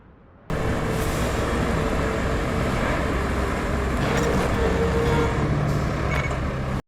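Trucks and heavy vehicles drive in the RoadCraft video game, a steady loud engine and road rumble that starts abruptly and holds without a break, with faint beeps and hisses over it.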